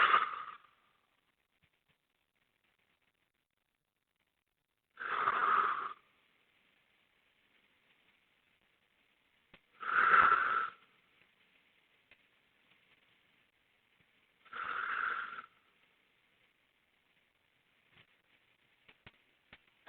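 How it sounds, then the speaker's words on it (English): Deep breathing at the end of a single dumbbell lower body workout, resting in child's pose, with four slow, evenly spaced breaths about five seconds apart, close and quiet against near silence. "Big deep breaths."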